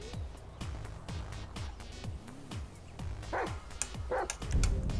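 Chop the dog barking in the GTA5 Chop the Dog app, a steady run of close, loud, regular barks with a few higher yips near the end.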